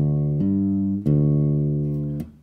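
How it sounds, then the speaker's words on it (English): Two unmuted guitar strings, including the G string, plucked three times and ringing together in a sustained, clear chord that fades slowly between strikes. "so that we don't hear both strings like this"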